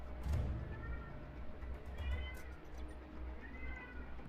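A pet cat meows three times, short rising calls spaced about every second and a half, fairly quiet indoors over a low background hum.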